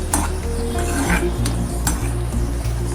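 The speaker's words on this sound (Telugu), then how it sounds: "ఒక స్పూన్ ఉప్పు వేసుకొని కలుపుకోవాలి." Spoon stirring salt and turmeric through spinach fry in a metal pan, a steady run of scraping and clinking strokes over a low sizzle, close and fairly loud, with no talking.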